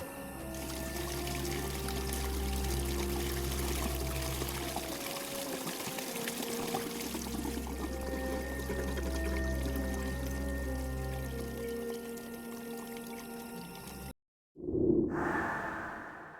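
Water pouring and trickling away steadily after a pump is switched off in the Broken Sword 4 adventure game, a continuous rushing flow over low droning tones that cuts out abruptly near the end.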